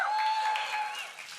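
A crowd at a live event applauds and cheers, a loud, dense wash of clapping that rises and slowly tapers over a second and a half.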